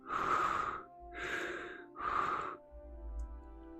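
A voice imitates heavy breathing in three long, loud, close, rasping breaths, each about a second long, with a short softer breath after them.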